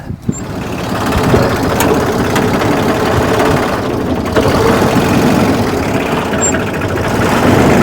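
An old barn-found tractor engine with a missing throttle spring runs roughly at low idle, a steady heavy rumble that sounds close and fairly loud and seems ready to stall.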